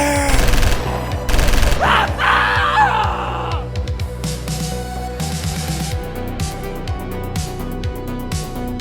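Rapid bursts of gunfire aimed at a creature in the water, loud and close, mixed with yelling and screaming and followed by a stretch of chaotic rumbling noise.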